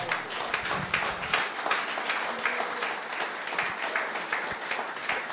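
A church congregation applauding at a worship service, sustained dense clapping from many people, steady and fairly loud throughout without a break.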